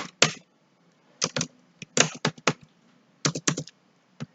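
Keys on a computer keyboard clack in quick clustered bursts with brief pauses between them, close and crisp against a quiet room, with no voices.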